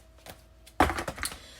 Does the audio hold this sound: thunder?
no